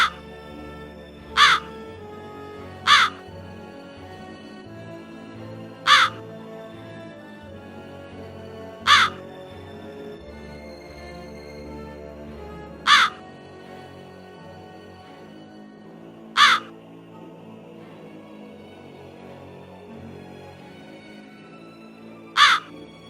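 A single crow, the sidekick Crow Wizard, gives short sharp caws at irregular intervals, about eight isolated calls spaced a few seconds apart over a quiet low background hum.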